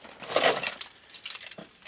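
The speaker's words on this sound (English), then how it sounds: "Of course, all the ignition GM keys from this era look like this, so we're just going to try all these." A bunch of GM ignition keys for an old Chevrolet C10 squarebody pickup jangling and clinking close by, a louder rattle at first, then lighter metallic taps, no talking.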